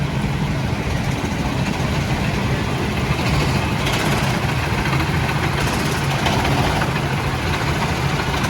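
Go-kart engines idling at a karting track in Dubai, a steady loud rumble with a low throb that holds without a break.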